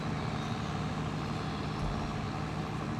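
A tractor engine labouring uphill in the Farming Simulator 22 video game, a steady loud low drone under load that stays even and unbroken throughout, with no voices.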